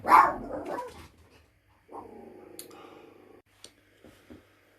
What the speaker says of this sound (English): the dog decided to bark